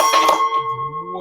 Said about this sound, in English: One of my hooks fell off the pegboard as I took that runner down and almost broke my glass.